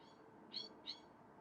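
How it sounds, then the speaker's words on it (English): A bird outside gives two short, high chirps in quick succession, faint and distant against quiet room tone. "there's just a bird chirping outside"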